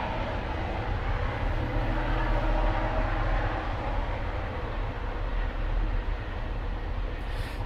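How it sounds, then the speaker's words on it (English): A passing train rumbles steadily and continuously nearby, a dense low roar that holds at an even level throughout with no voices over it. "I'll just let this train go past."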